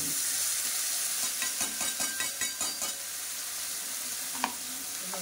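Spices stirred into fish curry in a frying pan give a steady broadband sizzle, with a run of close, irregular scraping stirs in the middle and one sharp clink near the end.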